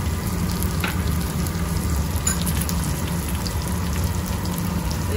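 Okra fries in a hot pan with a steady, dense sizzle and crackle, continuous and close, with no talking over it.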